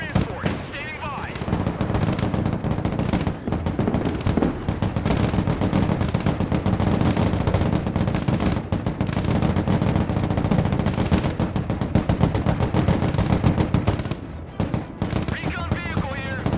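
Dense, sustained gunfire in the Broken Arrow game, rapid machine-gun bursts and rifle shots layered over a continuous battle roar with distant booms, loud and unbroken for the whole stretch.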